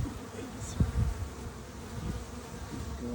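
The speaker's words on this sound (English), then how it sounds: "I love when I'm picking the raspberries to hear the bees in amongst all that" Bees buzz among raspberry plants in a garden with a low, steady hum throughout. A few soft rustles and thumps come from close by.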